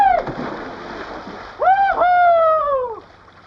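Water splashes up close as someone is dunked or thrashes about, followed by a loud drawn-out vocal cry layered over the churning noise.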